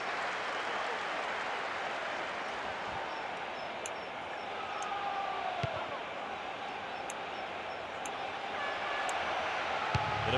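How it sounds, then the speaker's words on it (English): A referee's whistle sounds in the PES 6 football video game on PlayStation 2, a thin tone rising over a steady roar of stadium crowd noise. "There's the whistle for the end of the first half."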